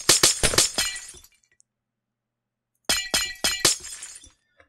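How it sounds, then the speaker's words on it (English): Glass blocks breaking in Minecraft, two quick clusters of sharp shattering crashes, four or five each, separated by a second or so of silence. "I'm going to break all this glass."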